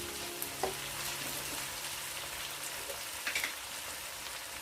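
Masala spices dropped into onions frying in hot oil set off a steady, close sizzle, with a few light pops and stirring clinks and no voices.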